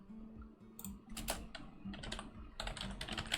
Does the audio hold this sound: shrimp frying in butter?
no